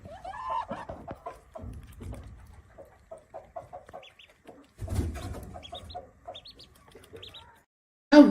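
Runner ducklings, the offspring of a runner duck, peep in a string of thin, high cheeps scattered through the middle of the clip, with a voice and some farmyard noise early on.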